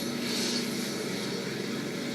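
In the Birds of Steel combat flight game, a Hurricane fighter's piston engine gives a steady, moderately loud droning roar with no speech.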